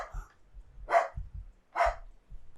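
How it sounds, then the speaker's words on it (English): A dog barks twice in sharp, loud bursts about a second apart, with low voice murmurs around them in a home setting. "my dog going crazy as always"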